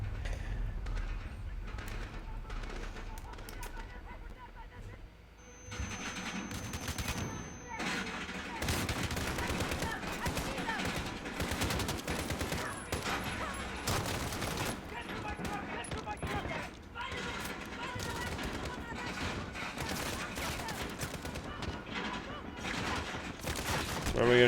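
Gunfire rings out in Call of Duty Modern Warfare: dense, rapid bursts and volleys of automatic shots crackle almost continuously, close and loud, with speech faintly mixed underneath.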